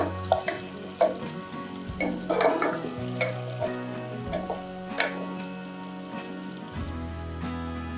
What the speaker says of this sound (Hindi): ये प्याज भी हम लोग फ्राई करेंगे